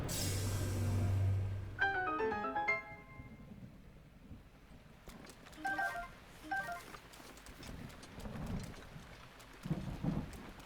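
A thunderstorm with rain and distant thunder rumbles plays in the video game Breath of the Wild, a soft steady patter under low booms, mixed with chiming in-game musical tones and other game sound effects.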